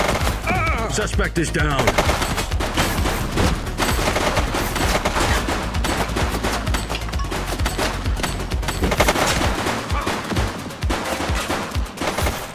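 Rapid bursts of gunfire in a police pursuit of a running suspect, loud and continuous, with automatic-sounding volleys under shouted voices throughout.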